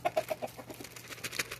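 Chickens cluck in a quick run of short calls while being fed grain at a coop, a rooster among the flock, the clucks close and fairly loud with light scratching and movement around them.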